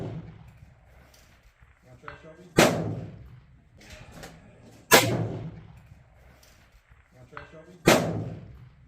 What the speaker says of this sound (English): This is my first time shooting this far.